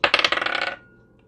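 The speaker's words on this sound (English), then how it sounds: "I'm gonna roll this dice to see what signs are coming through" Dice rattling and clattering across a surface for just under a second, a quick burst of close, bright clicks that settles into silence.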